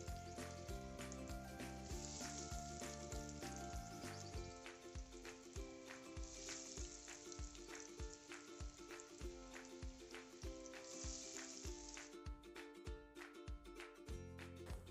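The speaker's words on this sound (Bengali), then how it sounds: "কিমার চপগুলো দিয়ে দিচ্ছি।" Minced meat potato chops fry in hot oil, a steady crackling sizzle with spitting pops throughout, close and continuous, with background music playing.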